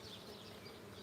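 Honey bees buzz at an open hive, a dense, steady hum of many insects filling the air close by, fairly quiet and continuous with no voices.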